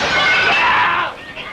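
A pane of glass shatters in one loud, bright crash, the breaking debris rushing and then tailing off quickly into a quieter tinkle.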